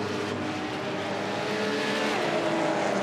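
Cup race cars lapping the circuit during a Goodyear-sponsored racing round produce a continuous, loud engine roar with sustained high-pitched whine, steady and dense throughout.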